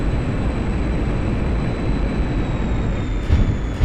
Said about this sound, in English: Literally forces his aircraft into the sky.